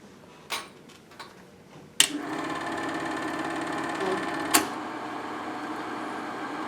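A Super 8 film projector runs with no film threaded: a few clicks, then a sharp switch-on into a steady mechanical whirring clatter, with another click partway through, close and moderately loud.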